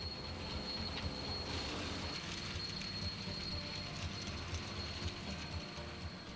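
A cold asphalt recycling plant runs steadily, mixing milled and crushed material with cement into a road base course, a continuous broadband mechanical rumble with a faint metallic whine, at moderate distance and with no voices.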